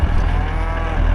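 Cattle on a Simmental farm low out with a loud, sustained moo, rich and close, lasting about a second with no talk over it.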